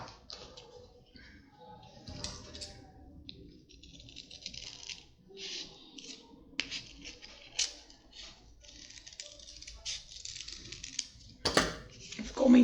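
Scissors snip through thermoplastic orthosis material for a wrist, finger and thumb positioning splint, giving a run of small crisp clicks and crunches close by in a quiet room.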